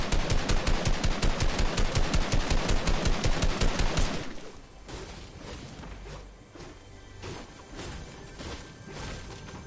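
Rapid, sustained automatic gunfire from the video game Fortnite, a player shooting constantly upward, loud and dense for about four seconds before dropping to quieter scattered game sounds.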